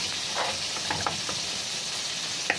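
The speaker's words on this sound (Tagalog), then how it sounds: "First time magluto ng chili garlic oil" Chili garlic oil sizzling and frying in a pan, being cooked for grilled balut, with a steady broad hiss and a few soft clicks and stirring taps throughout.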